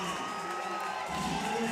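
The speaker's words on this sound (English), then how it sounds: "the crowd are really appreciating this" A crowd at a para climbing final cheers and whoops steadily in a dense, continuous wash of voices that swells slightly toward the end.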